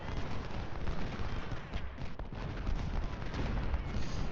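Musket volleys from a Civil War battle in the strategy game Ultimate General Civil War form a dense, continuous roar of gunfire. The crackling din is steady and loud throughout, with no single clear shot standing out.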